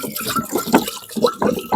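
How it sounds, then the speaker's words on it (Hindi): Water poured from a vessel into a clay pot during a ritual offering, splashing and gurgling in a few uneven surges at close range, with no talk. "ये जो जल भरा जा रहा है"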